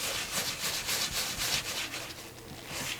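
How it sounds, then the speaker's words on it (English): Colour stain is rubbed into a leather travel journal with a soft, repeated swishing friction, steady strokes close up and moderately loud with no talking. "you've got to put it on and just keep working it"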